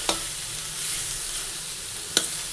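Cabbage ghonto frying in a pan on a high gas flame, already starting to scorch, with a steady bright sizzle throughout and two sharp scraping stirs of the spoon, one at the start and one near the end.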